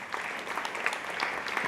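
An audience claps steadily as a speaker takes the stage at a PKN event, a dense, even patter of many hands filling the room without pause.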